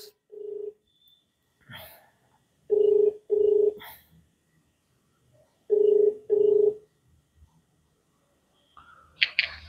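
A telephone handset gives repeated ringback tones in evenly paired bursts with short silences between, then a click and faint rustle as the call connects.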